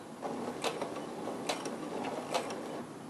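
A home sewing machine backstitching a seam, giving a soft mechanical whir with a few distinct ticking clicks spaced across a few seconds, close and moderately quiet.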